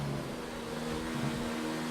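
Race car engines in a racing video game, a steady droning whine of a car at speed held throughout with no pauses or other sounds.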